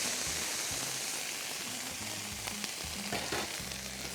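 Yakisoba vegetables and green beans toasting in a hot pan give off a steady, loud sizzle with bubbling, crackling frying noise and occasional stirring, and no voices.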